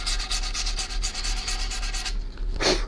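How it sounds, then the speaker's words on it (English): Sandpaper rubs steadily across the stained top of a PRS-style guitar body in quick back-and-forth strokes. The noise is close and continuous, breaks off briefly near the end, and returns with one more stroke. "Sand away."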